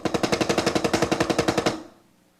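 A drummer plays a fast, even run of single strokes with the Moeller technique, about twenty hits in under two seconds, loud and close, then stops abruptly and the sound decays.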